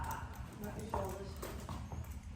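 Horse hooves thud and clip-clop on the ground during in-hand groundwork, several irregular steps close by while a person talks.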